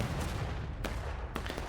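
Artillery cannon fire in a video game booms in two or three sharp distant reports over a steady battlefield rumble, with no talk.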